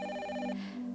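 Telephone ringing, an electronic tonal ring with a steady pitched pattern that stops about halfway through. A lower sustained tone continues after it.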